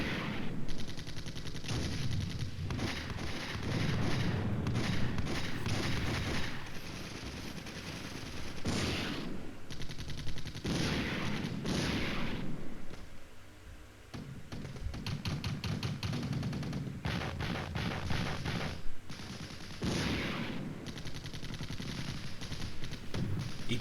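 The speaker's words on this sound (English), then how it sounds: "ATGM launched by the enemy." Simulated modern battlefield combat in the Flashpoint Campaigns: Red Storm strategy game, dense sustained gunfire and machine-gun bursts with heavy explosive booms, including an anti-tank guided missile launch, loud and continuous for the whole stretch without voices.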